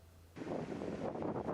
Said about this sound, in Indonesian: Angin kencang dan hujan deras di bawahnya terasa hingga ke Sugarland